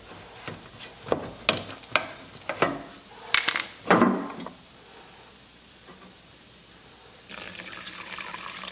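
Liquid reducer pouring into automotive paint for a car engine bay: a series of uneven splashy glugs and pours over the first few seconds, a quiet pause, then a steady faint hiss of flowing liquid toward the end.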